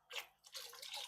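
Glaze pours into a slip-cast ceramic planter in two short liquid bursts, a brief splash followed by a steadier, bubbly gush, close and moderately quiet.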